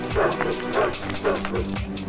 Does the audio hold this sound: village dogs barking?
yes